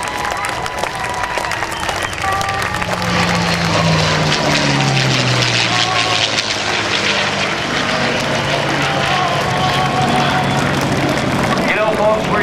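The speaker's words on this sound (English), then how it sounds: "Chris Baranaskas flying the P-51D, and Geoff Hickman flying the L-39." A P-51D and an L-39 fly at the 2010 NAS Oceana airshow, their engines making a loud, sustained roar with a shifting drone. Crowd applause and cheering carry throughout.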